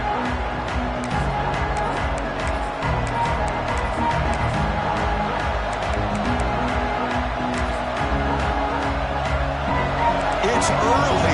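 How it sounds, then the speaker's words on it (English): A dense, roaring American football stadium crowd cheers continuously and loudly, a steady wall of voices with scattered shouts throughout. "this crowd is fired up. Listen to this noise here."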